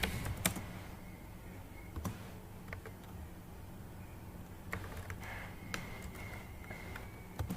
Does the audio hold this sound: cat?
no